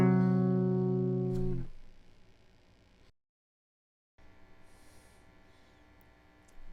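A keyboard note outside the C major scale rings briefly and fades into quiet background hum, followed by a short silence and then faint low noise.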